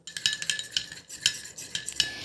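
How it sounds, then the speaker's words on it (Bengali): A spoon stirs a mixture of potato juice, tomato juice and vitamin E from a capsule in a small bowl, making quick, close, rhythmic scraping clinks against the side. "এবার আমি ভিটামিন ই ক্যাপসুলটা ভালো করে এই আলুর রস আর টমেটোর রসের সাথে মিশিয়ে নেব।"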